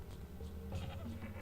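Sheep in the Shadow Madness video game give a few short, fairly quiet bleats over a low background hum, with no talking.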